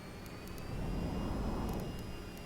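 Twin aircraft engines drone in VTOL VR, a steady jet roar that swells as both engines spool up, with faint high ticking clicks on top and no talk.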